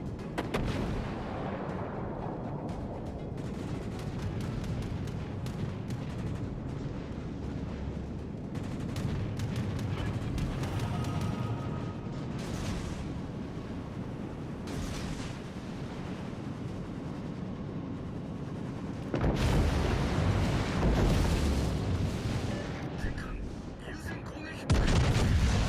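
Heavy naval gunfire booms and rumbles through a World of Warships: Legends match, a dense, continuous battle roar with louder salvos near the end, under a talking voice.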